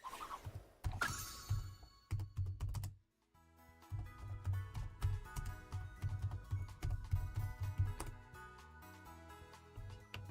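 Computer keyboard keys clack and click in quick irregular bursts at close range, with one brief pause, the tapping otherwise continuous and fairly quiet.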